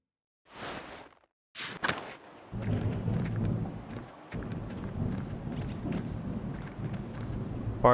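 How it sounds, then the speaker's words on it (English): A low, continuous thunder rumble rolls through a stormy day in the game Pentiment, following two short sharp bursts at the start, and carries on steadily with no voices. "Pardon the thunder."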